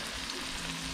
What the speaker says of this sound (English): I'm going to put eggs in the same pan